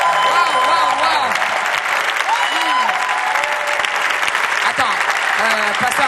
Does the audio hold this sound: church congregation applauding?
yes